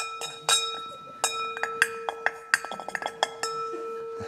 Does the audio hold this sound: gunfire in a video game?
no